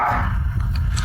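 A dog gives a brief, close bark, loud and full-bodied, lasting only about a second.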